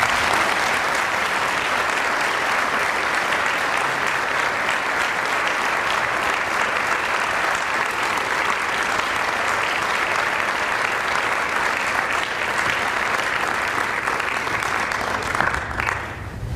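An academic convocation audience gives sustained, loud applause welcoming historian Ron Chernow, with dense steady clapping that continues for many seconds before tapering at the end.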